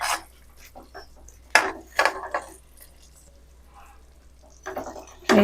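Paneer pieces dropped into a masala of onion-tomato gravy with kasuri methi in a pan and stirred, giving soft scraping and clattering spoon strokes with brief louder knocks, close and without talk.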